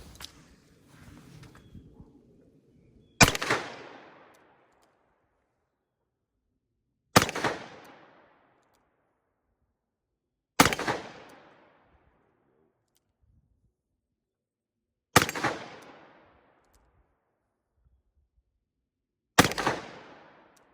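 Five single-action shots from a 2020 Colt Python revolver firing PMC Bronze ammunition, loud sharp cracks spaced about four seconds apart with short decays, after a brief stretch of quiet handling noise.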